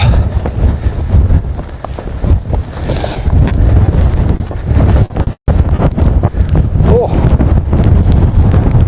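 Wind sweeps across the mountain ridge of Coniston Peak in the Lake District, a loud, steady roar buffeting the microphone, with a brief dropout midway and faint sounds of movement.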